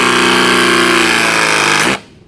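A ZoomLock flame-free press tool runs loudly and steadily as its trigger is pulled on an AC pipe fitting, a continuous mechanical whine and buzz that cuts off abruptly near the end into near silence.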